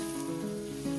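Onions sizzle as they fry in butter for a sage butter sauce, a steady close crackle under a low, even background hum, with no one speaking.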